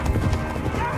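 Horse hooves clattering at a gallop in a rapid drumming rhythm, loud and close, under a dense rumbling dramatic mix during a burning-mill scene.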